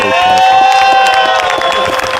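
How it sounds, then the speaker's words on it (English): Spectators at a 2002 disc golf final in South Lake Tahoe, California, let out a loud sustained roar of cheering and whooping, close and continuous throughout. "The crowd lets out a roar"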